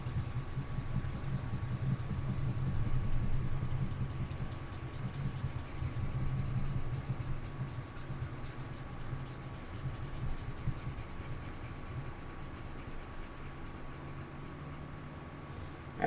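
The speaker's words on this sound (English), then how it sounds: "Let me erase this." A whiteboard being wiped clean in steady rubbing strokes, a continuous scratchy swishing with a faint background hum, no talking.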